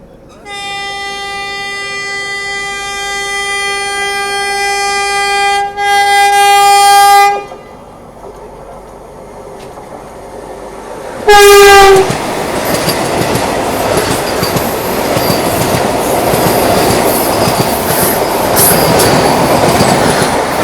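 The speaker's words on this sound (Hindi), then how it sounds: "क्योंकि वंदे भारत आ रही थी सामने से।" A white eight-coach Vande Bharat train sounds a long loud horn while approaching, then roars past close by with rushing wheel and wind noise that continues to the end.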